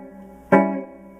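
A quick hammer-on grace note played with the middle finger onto the sixth fret of a guitar's third string, in a blues rhythm part: one sudden bright plucked note that rings and decays over a low sustained tone, no talking.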